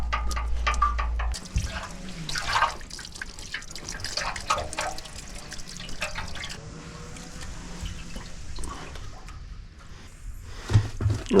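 Water runs steadily over a Van Van 125 motorcycle part being rinsed after cleaning, a continuous splashing flow with some drips close by and no talking.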